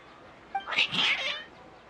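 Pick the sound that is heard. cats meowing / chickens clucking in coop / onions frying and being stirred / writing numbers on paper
cats meowing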